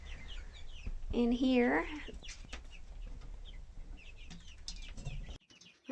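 Chicks and chickens inside a small brooding shed that was once a chicken coop, clucking and cheeping close by with a brief rising squawk, under some quiet talk and light shuffling.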